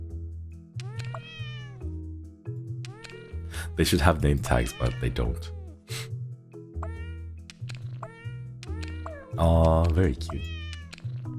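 Cats meow repeatedly in a game, with several clear, tonal mews close by and a louder drawn-out cry near the end, while a person talks over them.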